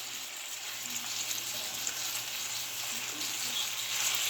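Ribeye steak sizzling steadily in a hot frying pan, a continuous close hiss with faint crackles and no voices.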